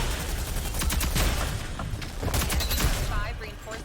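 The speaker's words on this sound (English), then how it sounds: "I'm getting shot by 3 different directions." Gunfire in the shooter game Rogue Company, dense overlapping bursts of shots crackling continuously from several directions, loud and close, with a little voice chatter mixed in.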